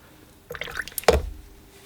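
Watercolor brush dipping into water and working burnt umber, raw sienna and burnt sienna paint, a short wet splash and drip with a sharp tap at its peak, close and alone.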